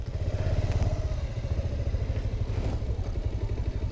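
A motorcycle is moved outside in a Tibetan village near the Karnataka–Tamil Nadu border, with a close engine putter and clattering thumps throughout.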